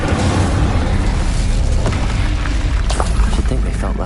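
A fiery spell blast in the Hogwarts Legacy video game, a loud, continuous roaring whoosh with rumbling booms that fills the whole clip without letup.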